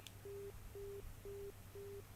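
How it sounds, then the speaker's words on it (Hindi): A telephone busy tone after a caller's line disconnects during a live news phone-in, four evenly spaced steady beeps, faint and clean with no talk over them. "हरिकिशोर जी का फोन डिस्कनेक्ट हुआ है"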